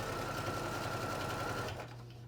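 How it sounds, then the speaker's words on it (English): A sewing machine runs steadily, back stitching a quarter-inch seam on a pillowcase, its close mechanical whir continuous for a couple of seconds before dropping off abruptly. "anytime you're sewing an an exposed seam, you want to do a back stitch"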